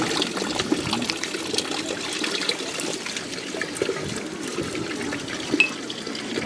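Water runs from the fountain taps at Lourdes in a steady splashing trickle, fairly close. It continues without break and faint outdoor background noise sits behind it.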